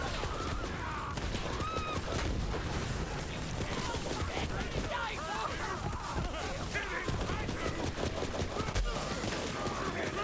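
Dense, continuous gunfire while shooting Goliaths in a video game, rapid shots layered over loud game noise and crowd chatter, with a voice talking throughout.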